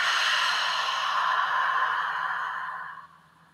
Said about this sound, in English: So take a deep breath in and exhale out.